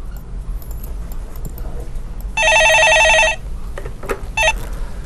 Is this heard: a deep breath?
no